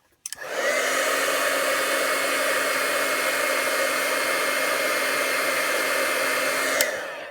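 A hair dryer dries a freshly painted watercolor pumpkin card, switching on with a click and blowing as a loud, steady whooshing roar for several seconds before shutting off.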